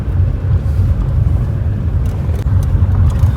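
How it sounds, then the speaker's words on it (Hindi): A car grinds along a rough, dangerous mountain road in the hills, a steady low engine and road rumble with wind buffeting the microphone, close and continuous with no talk. "तो मैं ही हूँ जो खतरनाक ड्राइवर हूँ जो गाड़ी चला रहा हूँ"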